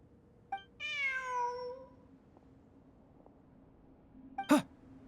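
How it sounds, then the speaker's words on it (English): A cat in Genshin Impact gives one drawn-out meow, then a sharp short call a few seconds later, both fairly close over quiet ambient game sound. "Look, a cat."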